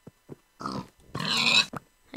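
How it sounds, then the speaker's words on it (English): A pig summoned in the Minecraft video game gives a short run of oinks and grunts, one longer squeal-like grunt in the middle, close and clear with no talking over it. "if I want to summon a pig, it summons a pig"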